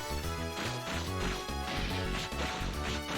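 Sword strikes in the action RPG Children of Mana, loud crashing smash impacts layered over dense, busy game music, with several hits clustered through a short stretch.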